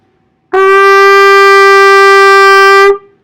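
A trumpet plays the note A, fingered with the first and second valves: one loud, bright, steady tone that starts cleanly, is held for about two and a half seconds and stops in near silence.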